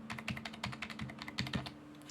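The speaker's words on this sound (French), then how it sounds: "Je vais vous faire écouter le bruit des touches." A quiet computer keyboard on a home desk setup gives a soft, steady run of close keystrokes in a quick, even rhythm, with no voices.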